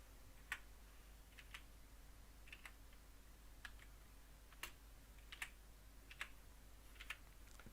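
Keys tapped on a computer keyboard to enter a talk group number while programming an Anytone 868 DMR radio: about eight quiet, sharp clicks in an uneven rhythm, close by, with nothing else heard.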